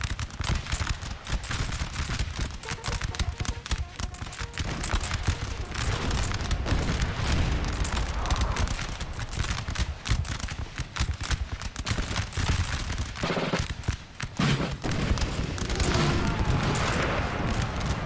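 Cannon fire from Napoleon: Total War booms through a dense battle din, with repeated heavy blasts and crackling musket volleys layered over one another, loud and nearly continuous.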